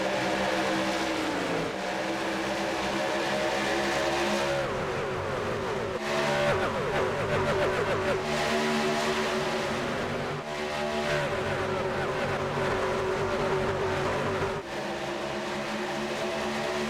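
Race cars roar continuously around Texas Motor Speedway in an iRacing eNASCAR Road to Pro qualifying race, engines droning and shifting in pitch as the pack passes, loud and steady throughout.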